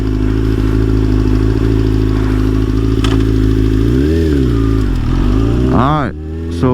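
A Yamaha R6 sport motorcycle engine while being ridden: a loud, steady engine drone that rises and falls in pitch with throttle changes, swelling into a sharp rev near the end, with a voice speaking over it.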